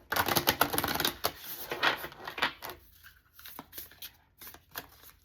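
Tarot cards shuffled and pulled from a deck, with a fast burst of crisp riffling clicks and snaps that thins into sparser, quieter flicks toward the end.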